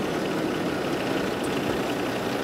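A truck engine idling after start-up during a roadside inspection, a steady low rumble with a faint knocking texture that stays even throughout, with no voices over it.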